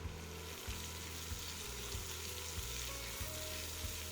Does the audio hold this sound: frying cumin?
yes